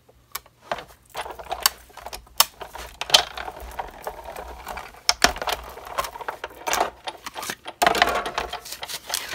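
A die-cutting machine presses a paper piece against a cutting pad while making a St Patrick's Day treat bag, giving close mechanical crunches and rolling clatter in uneven bursts, with short quiet gaps between passes.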